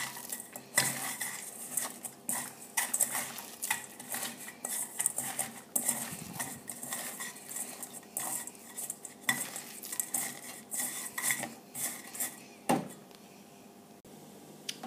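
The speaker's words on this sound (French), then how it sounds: "Je mélange avec les mains jusqu'à ce que le beurre, le pain d'épices et le sucre se soient complètement dissous." Butter, gingerbread and sugar are worked together by hand in a bowl for a crumble topping, with repeated soft rubbing, clinks and knocks against dishware in close, uneven bursts.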